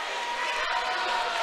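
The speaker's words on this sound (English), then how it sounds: "the Southside fans cheer and the Arkadelphia fans shake their heads" Southside fans roar at a basketball game, a dense, steady wash of crowd cheering that fills the arena at moderate loudness throughout, with no individual voice standing out.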